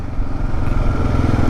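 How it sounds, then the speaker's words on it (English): A 2022 Kawasaki KLR 650 adventure motorcycle fitted with bags, a small skid plate and lower engine bars rumbles steadily while being ridden, its engine drone loud and continuous with wind noise over it. "I am currently riding a 2022 Kawasaki"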